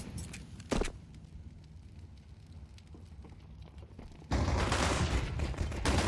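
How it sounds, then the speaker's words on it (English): Beretta pistols firing in Counter-Strike 2 during a professional match: a sharp shot early on, a quieter lull, then a loud dense barrage of rapid gunfire and clatter close by at the end. "Berettas fire off on both ends of this pillar drop"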